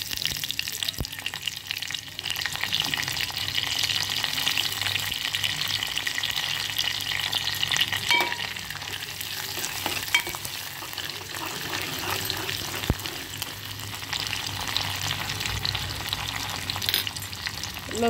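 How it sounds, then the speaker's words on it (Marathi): Garlic and curry leaves frying in hot oil for a Marathi oyster masala fry, a loud, continuous close sizzle with occasional clatters from the pan. "आपण आता तेल तापत ठेवलेलं आहे, तर त्यावर सर्वप्रथम आपण लसूण सोडूया"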